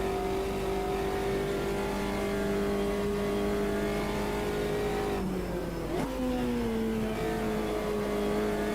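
Simulated car engine at Bathurst in Automobilista 2, holding a steady loud drone, then a brief drop and downshift blip before climbing again; continuous and close, with no talk.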